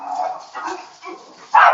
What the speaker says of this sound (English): My guard dog.